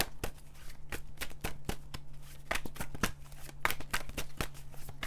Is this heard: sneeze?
no